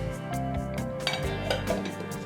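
Ceramic yogurt pots being closed with lids, with hard clinks and a scraping clatter of ceramic on ceramic over a couple of seconds against a steady background hum, close by.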